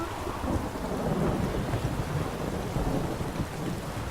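In The Witcher 3, a thunderstorm after a lightning strike fills the air with a steady, dense roar of rolling thunder and heavy rain, loud and continuous with no pauses.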